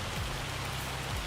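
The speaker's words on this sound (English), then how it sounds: "There's too much hail in this game, by the way." Hail falling in the Farming Simulator 25 video game, a dense continuous hiss of pelting ice across the whole moment, steady and fairly loud, with no talk.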